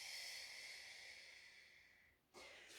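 A long, deep exhale of breath during a Pilates mat class, a steady airy hiss that runs near and clear for about two seconds, then a sharper breathy burst at the end.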